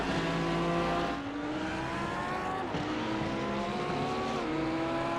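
Mercedes and Lamborghini GT race cars battling in a sim racing GT sprint race at Laguna Seca, several engines whining loudly together with shifting pitches rising and dropping through gear changes, no voices.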